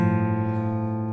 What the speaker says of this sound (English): If we happen to leave that A string open